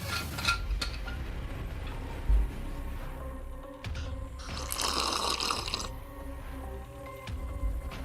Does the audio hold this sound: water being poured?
yes